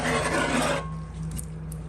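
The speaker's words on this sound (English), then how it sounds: "with the plastic scraper, I just gently kind of scrape the stuck-on stuff" A plastic scraper rasps across stuck-on food in a cast iron pan. A loud, dense scraping stroke is followed by quieter scraping and light rubbing, close up, with no talking.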